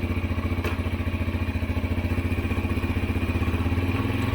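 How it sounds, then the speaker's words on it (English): Motorcycle engine idling and running steadily up close with a rapid, even thudding pulse, a faint clack near the start as the rider in old Forma boots works the gear shifter. "Here's an example of me shifting the bike with my old boots."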